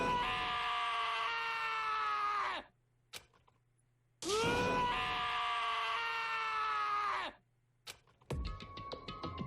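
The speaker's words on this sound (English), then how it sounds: "As Taka's sad screams invaded our skulls" Taka screams sadly in the video game Danganronpa, two long, anguished, wavering wails separated by near-silent gaps, then a burst of sharp, choppy sound at the end, loud and alone.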